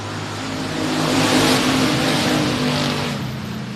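Eight race cars start a three-lap race at Sabine Speedway, engines roaring as they accelerate together, the loud mass of sound building to a peak and then easing slightly as the pack pulls away, with no talking.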